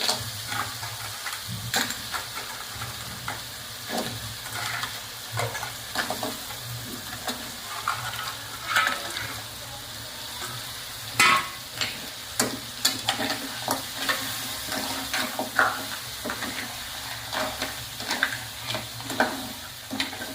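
Crabs frying in spiced ground masala paste in a pan, a steady sizzle with repeated scraping and clinking of a stirring spoon throughout, close up and with no talking.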